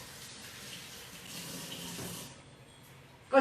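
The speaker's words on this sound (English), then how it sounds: "I'm going to rinse my hands." Tap water running into a sink while hands are rinsed, a steady close splashing rush that cuts off near the end with a short knock.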